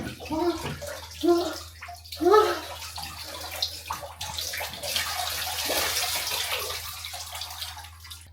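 Cold water pours and splashes into a bathtub in a steady, close rush, with a few brief voice-like sounds at the start.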